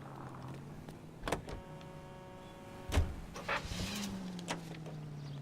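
A car driven in the L.A. Noire video game hums at a steady low engine drone, a rising tone near the end, with a few sharp clunks and thumps scattered through the drive.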